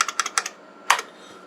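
Keys clacking on an old IBM AT 5170 keyboard: a quick run of four or five loud, close mechanical strokes, a short pause, then one heavier keypress.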